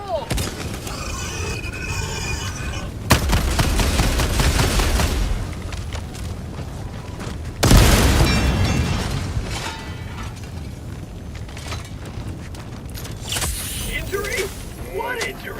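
Two loud grenade blasts go off in the Helldivers 2 game amid gunfire and mechanical clatter, each dying away with a ringing tail.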